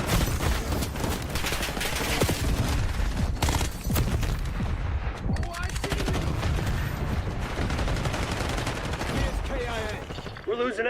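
Call of Duty gunfire fills the clip with dense, continuous bursts of automatic weapons and scattered booms, loud and unbroken, with game voices mixed in.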